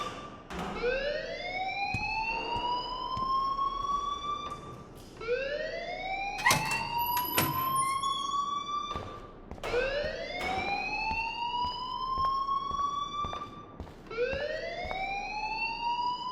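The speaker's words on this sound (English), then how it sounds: "please turn off that alarm since that's your job" A rising, wailing electronic alarm in the video game Life is Strange repeats in steady sweeps about every four seconds, loud and continuous, with a few sharp clicks layered over it.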